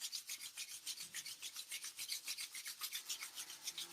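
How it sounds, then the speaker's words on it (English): Two palms rubbing quickly together to build heat, a steady rasping swish repeating about five to six times a second, close and alone with no voices. "So to begin with, we'll just rub those hands."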